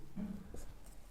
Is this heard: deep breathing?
no